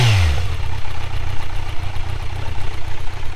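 Steady, close idle from a Kawasaki Z900's stock exhaust, a low, even throbbing rumble after a brief falling whine at the very start, with no talking.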